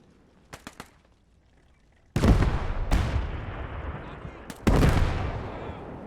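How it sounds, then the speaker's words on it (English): High-explosive artillery fire in Call to Arms Gate's early WWII Eastern Front mod: a few faint small pops, then three loud booming blasts, each trailing into a long rumbling roar. "Now let's make sure we fire HE there."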